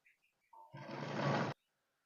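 A sewing machine stitching the hem of a kids' top made from leftover fabric runs in one steady whirring burst of just under a second, close and fairly loud, after a few faint preceding ticks.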